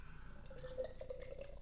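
Treehouse Brewing Queen Machine beer poured from a fresh can into a glass, a steady soft trickle and gurgle of liquid filling, close and quiet, with no talking.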